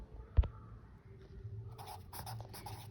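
Handwriting on paper while a frequency table of blood types is drawn up, soft scratchy pen strokes in short bursts after a single sharp tap, close and quiet over a low background hum.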